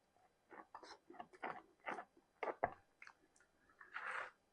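Someone chews homemade bread up close, a string of soft, moist bites and mashing sounds over about four seconds, quiet and alone with no talk.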